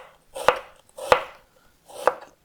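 Three separate, crisp knife chops slice an onion very thin on a board, spaced at an even, unhurried rhythm, close up with no talking.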